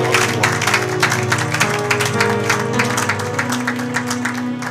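A church congregation applauds together in a loud, sustained burst of rhythmic clapping, with music playing underneath throughout.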